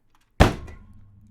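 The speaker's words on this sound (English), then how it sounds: "He will bang his spear shaft into the ground." A spear shaft bangs once into the ground, giving a single sharp, heavy thunk after a moment of silence and then a short decaying ring.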